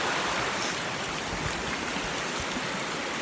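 A stream rushes steadily in an open natural setting, a loud, unbroken wash of flowing water with no voices over it.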